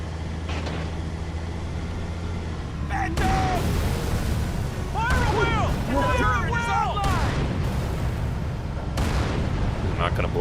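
Heavy booming tank cannon shots in Halo 3 on Xbox Series X, with deep rumbling blasts and debris crackle over a constant engine drone, while people talk alongside.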